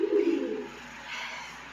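A pet pigeon gives a soft, low coo up close, one short rolling call at the start that fades into quiet room hiss.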